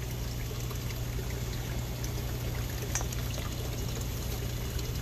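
Cold water pouring steadily onto cool-season crops in a wellness garden, a continuous close hiss and splash with a low steady hum beneath, no voices.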